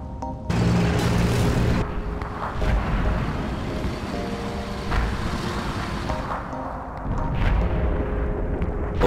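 Tank cannon fire and heavy explosions in the World of Tanks video game, with loud booming blasts and rumbling engine noise, including a sharp hit near the start and several more thuds throughout.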